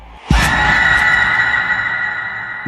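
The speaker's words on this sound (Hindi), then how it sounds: "वह चीखें उसके कानों से टकरा रही थी" A scream in a Hindi horror story about a last train: a loud, sustained shriek bursting in after a brief thud, holding steady and slowly fading over a couple of seconds, with no talk.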